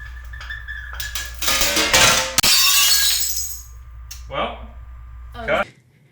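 A drinking glass shatters in a short film scene, a loud crash with a ringing spray of shards, then smaller clinks and a final rattle as pieces settle.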